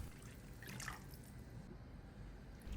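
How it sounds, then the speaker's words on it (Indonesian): Coconut milk of medium thickness pours into a pot of sayur lodeh, a quiet continuous liquid trickle and dribble with a few brighter splashes early on, faint and close with no voices. "Ini bumbunya sudah mateng, kita tuang aja santan. Santannya kita masukkan semua."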